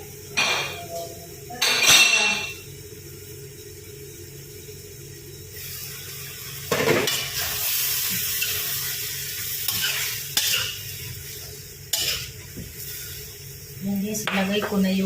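Garlic goes into a hot pan for pork ribs caldereta, giving a steady sizzle and frying hiss broken by repeated metallic clinks and scrapes of stirring, close by, with a voice speaking at points.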